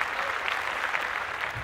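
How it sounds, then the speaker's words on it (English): An audience claps steadily and fairly loudly, with dense, even applause throughout and no voices over it. "Claps, claps."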